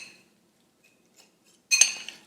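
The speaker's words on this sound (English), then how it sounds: "You're just going to give that a stir and make sure everything is combined." Mashed and whole raspberries stirred in a bowl: a faint clink at the start, a couple of tiny ticks, then a short burst of spoon scraping and clinking against the bowl near the end.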